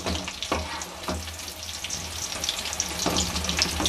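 Chicken kababs sizzle steadily in hot oil on a stove, a dense, loud, continuous crackle with small popping bursts throughout and no voices.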